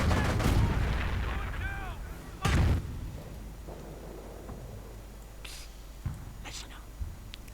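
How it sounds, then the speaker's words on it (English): Nebelwerfer rocket artillery fires in a wartime strategy video game, a single heavy boom near the start followed by a few fainter distant thuds, with a voice talking beneath at first. "More Nebelwerfer fire."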